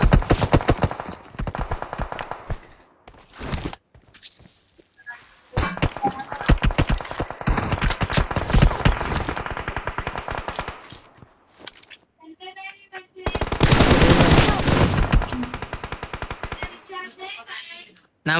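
Rapid automatic gunfire in a video game, with long dense bursts of shots broken by short pauses, loud and close, with brief bits of game sound between bursts.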